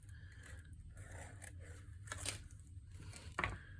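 Scissors snip a top hat shape out of material for a hand-carved rubber stamp, a run of soft close cuts and crunches with a sharper snip near the end.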